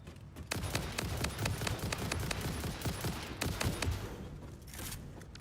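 Rifle gunfire in the video game Satisfactory: a dense run of sharp, loud shots fired in quick bursts, nearly continuous over a few seconds with brief gaps between volleys.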